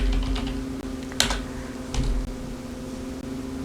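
Computer keyboard keys tapped to type a short search keyword, a handful of distinct close clicks over steady fan-like room hum, no talk.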